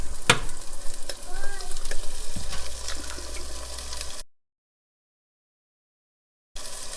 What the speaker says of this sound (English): So we're gonna quickly fry an egg.